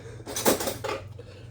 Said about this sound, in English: I'm just going to get out a knife.